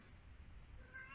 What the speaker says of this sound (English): My cat's yelling.